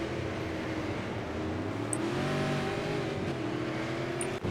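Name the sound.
Super Late Model race cars in iRacing video game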